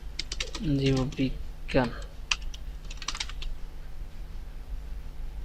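Keys clatter on a computer keyboard while text is typed in MS Word, in quick irregular bursts of clicks with short pauses, as a voice speaks briefly over them.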